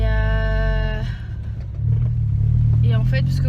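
Engine of a Peugeot 206 car while driving: a steady low hum from inside the cabin that deepens and grows louder midway, with a voice speaking over it.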